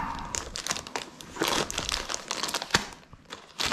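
Plastic wrapping on a French army combat ration crinkles and crackles loudly and close up as it is pulled open, in uneven rustling bursts.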